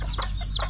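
A Chabo bantam hen clucks close up in a short, loud burst of two or three clipped, throaty calls.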